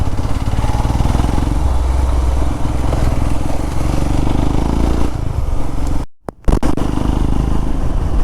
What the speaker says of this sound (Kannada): ಒಂದು ಹೋಂಡಾ ಶೈನು, ನಂದೊಂದು ಹಿಮಾಲಯನ್ನು, ಒಂದು RTX ಬರುತ್ತೆ ಇವಾಗ.